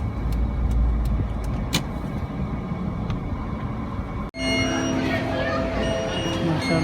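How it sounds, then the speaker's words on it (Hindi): A car rolls into the parking area of L&T Mall in Chandigarh, its engine and tyre rumble steady and close, with a brief dropout partway through as the cabin sound shifts; a voice speaks over the driving. "अब हम गाड़ी पार्किंग में लगाने जा रहे हैं"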